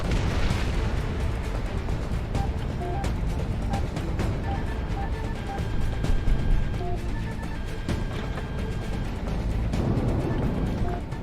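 Missile explosions and gunfire from the Project Wingman combat flight game, a dense, continuous roar of blasts and bursts running loud throughout, with sharp pops scattered over a heavy rumbling bed.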